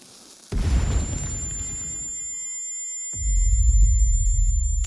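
A bomb explodes inside a home in the video game Sanabi with a sudden loud boom, followed by a thin, high ringing tone and then a deep, heavy rumble that swells back in a few seconds later.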